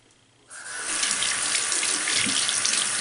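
A bathroom sink faucet opens and runs water for wetting a Real Techniques Expert Face makeup brush, a bright steady stream that starts abruptly and continues close and loud.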